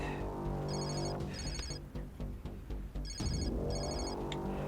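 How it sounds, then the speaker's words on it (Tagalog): A cellphone rings in a domestic room, repeating two-tone electronic chirps in pairs over a loud, busy musical background, with no talking. "Yung cellphone mo, kanina-kanina pa nagre-ring yan."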